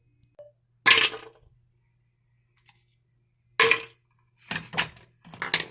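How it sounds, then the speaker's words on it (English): Ice cubes being broken off and dropped into a glass: a few sharp cracking clinks, one then another, followed by a quick cluster of rattling clinks, close and isolated in a quiet room. "Got the ice cubes right there. I'm going to break them off."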